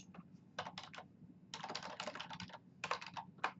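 Typing on a computer keyboard: close, clicky keystrokes in short bursts with brief pauses, a quick run of keys in the middle and a final single press to finish.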